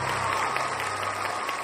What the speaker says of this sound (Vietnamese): Vỗ tay lớn hơn nữa nữa không ạ.